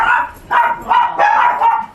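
A police dog barks repeatedly, about five loud, close woofs in an uneven rhythm, each bark with a slightly whiny, yelping edge.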